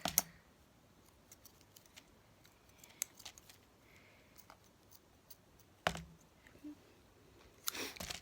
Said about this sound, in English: now I'm cutting a bit off